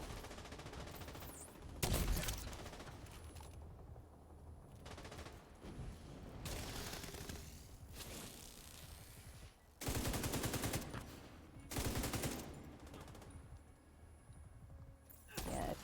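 Bursts of rapid gunfire from The Division 2 come in several loud clusters with quieter stretches between them, mixed with game effects and faint speech.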